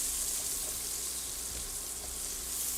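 Thinly sliced shallots fry in a pot for potato soup, giving a steady, soft sizzle with faint crackles and stirring, alone and unbroken.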